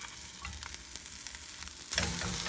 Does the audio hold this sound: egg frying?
yes